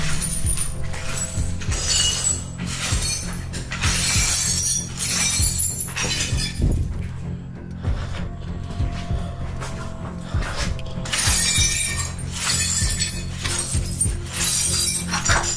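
Glass shattering in a horror video game, repeated crashing bursts of breaking glass with tinkling shards over a dense rumbling backdrop, loud and close with a short lull in the middle.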